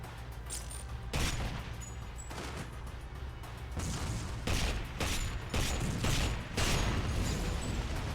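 Shots crack out in GoldenEye: Rogue Agent as explosive barrels are fired on, a series of sharp bursts with booming blasts spaced about a second apart over a low background drone.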